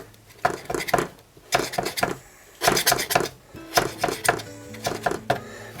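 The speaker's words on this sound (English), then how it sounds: "Then go around the sides with a sharp knife" Sharp knife trimming pastry around the sides of a savoury pie dish, a run of close, crisp scraping taps and knocks against the dish rim in uneven bursts.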